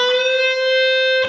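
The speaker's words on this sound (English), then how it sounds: "So I'm bending the string from making the note sound at the 12th fret as if I played it at the 13th fret." An electric guitar note is picked at the 12th fret and bent up one fret, in a lead line like a song's bridge. A single loud, bright tone sustains steadily for over a second, with nothing else heard.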